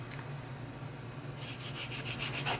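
A wooden rod is block sanded to round off its squared corners, a faint, steady scratchy rubbing that grows a little busier with short strokes toward the end.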